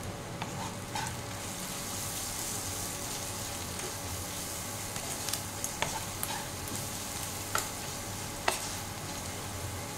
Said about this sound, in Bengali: এটা ভালো করে একটু মিক্স করে নেব।